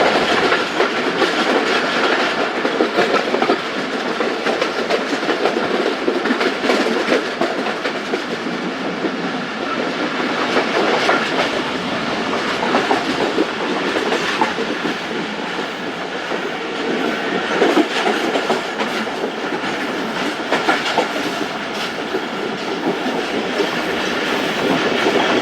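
A Jaffar Express passenger train rolls steadily on its rails with a continuous rumbling roar and faint clickety-clack of wheels, heard from inside the moving train, steady and loud throughout with no voices.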